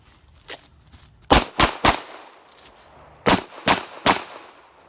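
Two quick strings of three sharp gunshots from a Walther PPQ pistol at a shooting range, loud and close, each string fired in a steady rhythm with a short pause between them and no talk.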